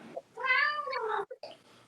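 A pet cat gives one drawn-out, close meow that rises and falls, followed by a short chirpy trill and a softer sound, with no talking.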